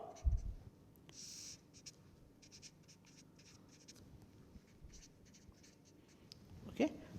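A marker drawing on a board during a lecture on protein unfolding, soft intermittent scratchy strokes in short bursts, faint and close, with occasional small taps.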